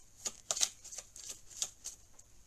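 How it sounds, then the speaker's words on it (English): A small deck of cards is shuffled close to the microphone in quiet surroundings, producing a string of soft, crisp riffling snaps and flutters at an irregular rhythm. "give these a bit of a little shuffle"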